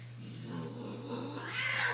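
A cat gives a low, drawn-out caterwaul that rises into a sharper meow at the end, close by, over a steady low hum.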